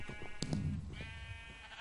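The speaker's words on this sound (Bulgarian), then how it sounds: "овци." A Minecraft sheep bleats in a short, wavering baa, close and moderately loud, with a second brief bleat following; no talk over it.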